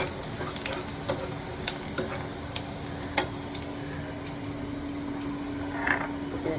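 Onions fry with spices in a pan, giving a steady close sizzle with scattered sharp clicks and scrapes of stirring throughout, and no voices.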